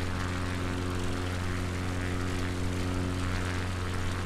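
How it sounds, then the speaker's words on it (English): A propeller plane in flight drones with a steady, loud, close engine hum and strong tonal whine that never lets up, heard alone from inside the aircraft. "Let's trim the plane and bring it down a little bit, because I'm flying quite high."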